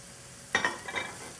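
Thinly sliced green onions drop into olive oil in a skillet with a sudden sizzle that flares up and settles into a softer crackle within a second.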